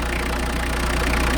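A vehicle engine idles steadily at a campsite, a loud, even low-pitched hum and rattle that runs without a break, with no talk.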